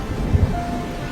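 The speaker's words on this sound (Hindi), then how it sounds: "बारिश बहुत ज्यादा तेज थी।" Heavy rain falls in a steady dense hiss, with two quick low thumps of thunder rumbling underneath, close and loud throughout.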